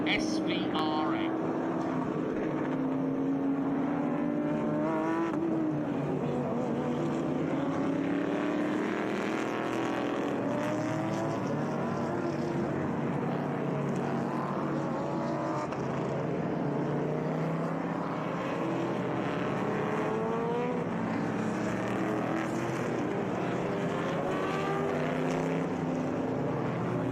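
SVRA Group 6 race cars at Mid-Ohio roar steadily throughout, a dense continuous engine drone with shifting pitches as several cars pass, heard alongside commentary.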